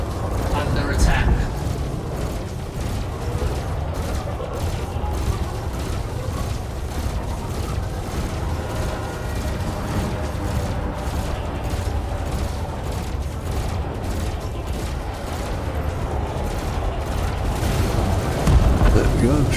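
Ship weapons fire and explosions in the space combat game Elite Dangerous boom and rumble continuously at close range beneath a player's intermittent talk.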